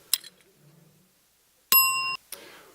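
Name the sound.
bell signalling the start of a networking round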